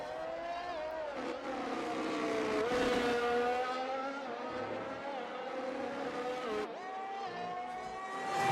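A race car in a sim racing game at Great Britain drives on track, its engine a loud, sustained whine that climbs and drops through gear changes, with faint talk underneath.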